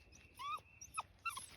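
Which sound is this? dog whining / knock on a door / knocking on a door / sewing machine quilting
dog whining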